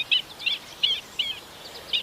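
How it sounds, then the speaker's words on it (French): A black-winged stilt on the Île de Ré calls in a series of six short, sharp, high-pitched notes, evenly spaced and moderately distant over quiet background. "l'échasse blanche."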